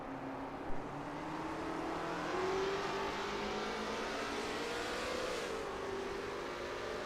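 Lola T70 MkII Spyder race cars in a video game race at Road America, a dense continuous engine roar with rising and falling pitch as several cars drive together, loud and sustained without a break.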